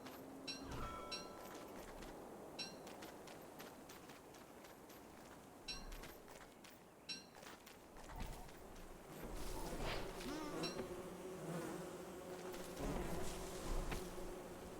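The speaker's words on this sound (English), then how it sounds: "The killer bee got the tree guard." Killer bees buzzing in the video game Don't Starve Together, a faint insect drone layered with game effects and occasional clicks, growing busier and louder toward the end.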